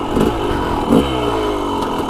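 A motorcycle being ridden, its engine note steady with harmonic bands that rise and fall slightly. A brief rough burst comes near the start and another around the one-second mark, then it settles into a loud, close, continuous drone with no voices.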